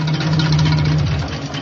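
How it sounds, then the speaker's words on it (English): An old van's engine runs with a broken big end. It gives a steady, loud, close rumbling idle with a rough low throb and no speech over it. "like the big end's gone"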